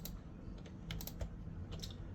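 Keys on a computer keyboard are pressed several times, giving faint, quiet clicks spaced irregularly over a soft background hiss.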